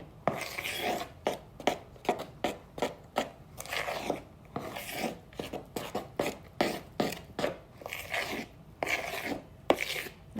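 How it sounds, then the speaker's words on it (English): Oreo Bundt cake batter is stirred in a bowl with a steady rhythmic scraping and rasping, about one stroke per half second, close up and fairly quiet with no talking. "I'm just gonna stir this mixture up."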